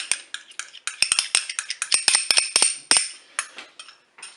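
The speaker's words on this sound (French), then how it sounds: "On mélange tout ça." A utensil scrapes and clinks against a Cookeo pot while mustard, tomato concentrate and other ingredients are stirred together, a quick irregular run of close metallic taps and knocks.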